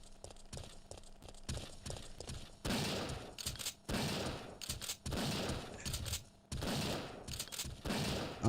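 Gunfire from the player's weapon in the video game Resident Evil 3, loud rapid bursts of repeated shots in several long volleys separated by brief pauses, with no talking.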